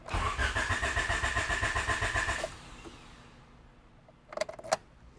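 A car engine in an EF hatch cranks rhythmically and loudly, trying to start on old fuel. It stops after a couple of seconds, followed by a few clattering knocks.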